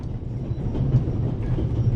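A train runs steadily on its rails, a continuous low rumble with faint rhythmic clatter throughout, close and even, with no talk over it.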